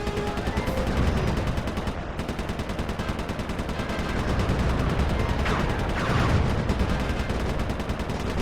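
Guns firing in the platform game Sly Cooper 3: a continuous rattle of rapid shots, machine-gun-like and fairly even, over a steady game backdrop.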